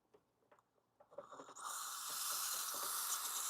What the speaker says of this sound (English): Let me show you the steaming power of it.